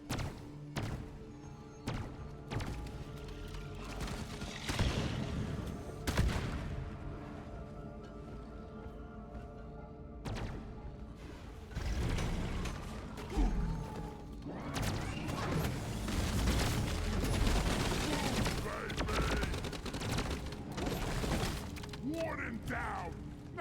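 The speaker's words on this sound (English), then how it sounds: "even digging up legs can cause a pressure wave to spawn" A pressure wave spawns underground in Deep Rock Galactic: clanking mechanical rumbles, creaks and heavy thuds build and swell over several seconds amid gunfire-like bursts, with a player's voice talking over it.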